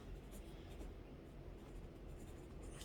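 A pen moves across paper while planning a homeschool week, giving a faint, close scratching and scribbling that runs steadily through the whole stretch with small strokes and pauses.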